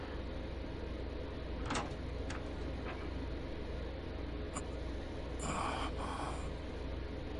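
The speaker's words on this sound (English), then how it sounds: "as he opened the door" A door sliding open as a sound effect in the visual novel game Chaos Child: a short, soft whoosh rising over a steady hiss, with a few faint clicks before it, quiet and distant.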